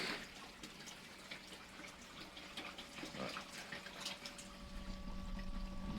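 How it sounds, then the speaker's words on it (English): Water runs steadily through a pond pressure filter fitted on the skimmer line, a faint, continuous trickling and gushing flow with a soft mechanical hum beneath it. "Installed a pressure filter onto the skimmer line earlier this week. Seems to be running through quite happily."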